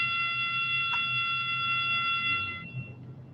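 An electronic alarm sounds from outside a classroom, a steady high multi-tone beep that holds evenly for a couple of seconds and then cuts off, leaving faint room hum.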